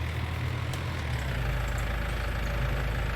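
A tractor engine idles in Farming Simulator 19, a steady low rumble holding an even level throughout, alone with no voices.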